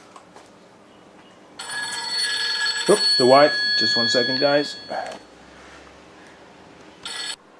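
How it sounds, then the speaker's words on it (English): A telephone rings with a steady electronic warble that runs for a few seconds and returns briefly near the end, while someone talks over it nearby. "Hey, a phone."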